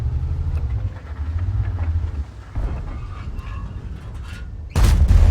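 In a tank battle game, a Maus tank rumbles and clanks heavily, then a tank gun fires and its shell strikes rock, ending in a loud, sharp boom over the rolling low engine drone, with no talk.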